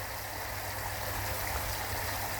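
Water trickles steadily in a garden lazy river feature that runs more like a babbling brook, a soft continuous splashing flow with a low hum underneath and no voices.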